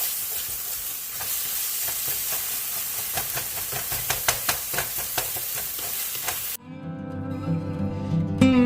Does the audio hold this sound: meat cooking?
yes